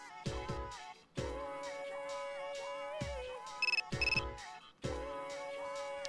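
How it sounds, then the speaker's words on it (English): A text message notification tone in the video game Persona 3 Portable, short electronic chirps of repeated high beeps sounding twice over soft background music, with no voices. "You received a text message."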